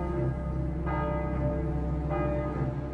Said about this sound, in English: the bells of this church, Saint-Germain-l'Auxerrois, rang out